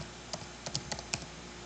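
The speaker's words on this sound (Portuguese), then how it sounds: "a gente dá um clique em cima e digita o nome" Several quiet keyboard keystrokes in an irregular, sparse rhythm while a name is typed into an Excel spreadsheet, close and alone with a faint background hiss.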